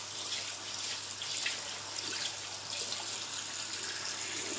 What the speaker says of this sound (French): on vient rincer avec de l'eau froide